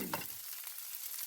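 Chicken fried rice with vegetables stirred in an oiled pan, a close, steady frying hiss with a brief scrape of the spatula at the start and no talk.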